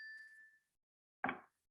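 Two short phone text message alerts sound after unlocking: a clear, sustained electronic ding, then a brief pause and a second, softer chime-like tone, close and alone in otherwise quiet surroundings.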